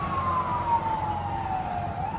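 A fire engine siren wails nearby on a residential street, a steady loud tone slowly sliding down in pitch as the truck passes, with road rumble underneath and no talking.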